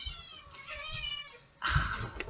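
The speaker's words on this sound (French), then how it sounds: "Les chats qui se battent." Cats fight with drawn-out yowls and meows, and a harsher, louder caterwaul erupts near the end.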